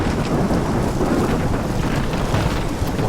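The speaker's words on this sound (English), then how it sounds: "I've never seen a storm like this in Omaha." A storm rages in the video game Life Is Strange: dense, steady rain hiss and rushing wind with deep thunder rumbling beneath, continuous and loud throughout without speech.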